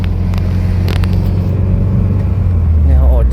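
Morning traffic near Vientiane airport rumbles steadily close by, with a low car engine hum and a vehicle revving toward the end, as someone talks over it.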